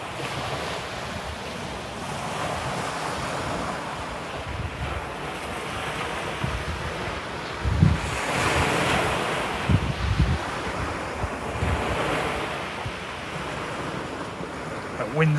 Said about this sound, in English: That wind's becoming a real pain.